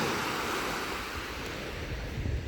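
Sea waves wash steadily onto a long northern shore, a broad continuous roar of surf with wind noise buffeting the microphone and no voices.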